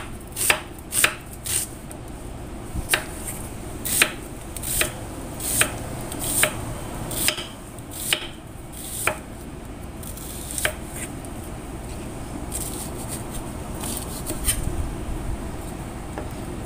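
A knife slicing food on a cutting board, a series of crisp, evenly spaced chopping knocks close up over a low background hum, growing quieter and more irregular toward the end.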